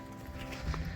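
Small ponies at a farm in the Galician countryside near Negreira, with soft hoof clops and faint animal shuffling close by for about a second, no talking.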